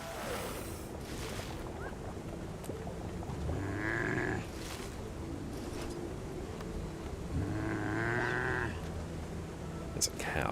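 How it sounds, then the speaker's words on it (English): Cattle lowing inside Guild Wars 2, two drawn-out moos a few seconds apart rising over a steady game ambience and background noise. "There's a cow somewhere."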